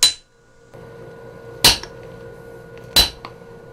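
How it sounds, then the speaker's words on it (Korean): Hammer blows on iron during traditional Korean sword forging: three sharp metallic strikes spaced over a few seconds, with a steady low hum filling the gaps between them. "여러 번의 망치질로 쇠를 길게 늘리면 반듯하니 잘라서 꺾어 접는다"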